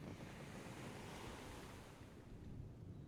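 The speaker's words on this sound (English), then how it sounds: "I have ocean sounds." Steady ocean waves wash and rush continuously with broad, faint surf noise and a touch of wind, no voices present.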